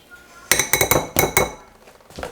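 A spoon clinks rapidly against a bowl while beef broth and cornstarch are stirred into a slurry, a close burst of about seven sharp ceramic taps in quick succession, then a lone faint tap.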